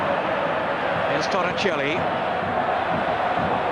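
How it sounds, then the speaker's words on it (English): Stadium crowd at a Juventus v Inter Serie A football match, a steady loud roar of massed voices filling the ground beneath someone commentator speaking over it, with a brief whistle-like tone rising midway. "The crowd doing their best to raise their team's morale"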